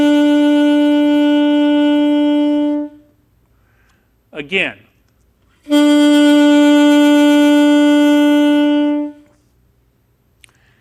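An alto saxophone holds a steady B note twice, each a sustained, clear and fairly loud tone lasting about three seconds. A brief spoken word falls in the gap between the two notes.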